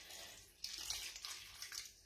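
Water poured steadily into a slow cooker for two seconds, a soft continuous splashing and trickling close by with a few brighter surges, no talking.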